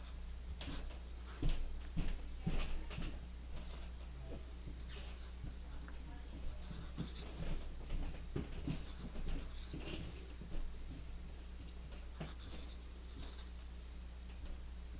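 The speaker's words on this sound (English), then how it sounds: "Now to draw his hand." Pencil scratching and tapping on paper while sketching Shadow Mewtwo's hand and fingers, a soft, intermittent scritch of short strokes over a steady low hum, fairly quiet and close.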